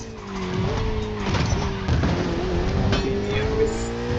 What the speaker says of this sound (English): Make way for the Ferrari 488.